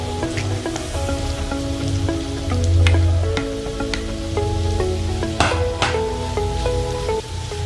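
Grated ginger and carrot sizzle and crackle as they fry in hot oil, with steady close crackling under tonal background music and occasional stirring clatter.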